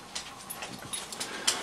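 Brief, faint whimpering from a dog indoors, a few small whines over a low background.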